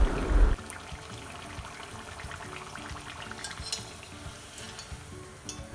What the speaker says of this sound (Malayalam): ഇത് 2 സൈഡും നമ്മൾ ഒരേപോലെ ഫ്രൈ ചെയ്തെടുക്കുന്നുണ്ട്